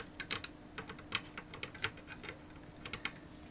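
Small cutters snip excess component leads on a Velleman K8022 passive preamp kit circuit board, a quick series of sharp, close clicks in an uneven rhythm, heard alone.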